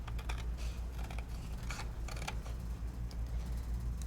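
Scissors snipping through card stock for a crafting project, a quick series of close, crisp clicking cuts in short bursts against a low background hum.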